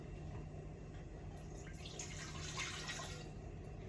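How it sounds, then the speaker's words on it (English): Water from a tap runs into a cooking pot, a faint, steady splashing stream with slight watery fluctuations, quiet and continuous with no talking. "So here's water. I'm going to turn this on."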